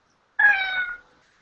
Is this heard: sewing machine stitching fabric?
no